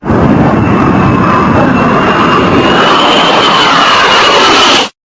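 A loud, close F-22 Raptor fighter jet roars steadily with a rising high whine for about five seconds, then cuts off abruptly.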